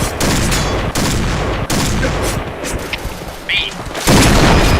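Rapid, loud gunfire in the video game Point Blank, with dense bursts of automatic fire and sharp individual shots continuing without a break. A voice speaks briefly beneath the shooting.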